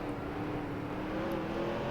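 NASCAR stock cars accelerate at Martinsville in the NASCAR Racing 2003 video game, a steady droning engine whine that rises slightly in pitch, heard alone at moderate volume with no talk.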